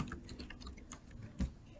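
Someone types data into a computer, the keyboard clicking in a quick, close, soft patter with one slightly louder keystroke near the end.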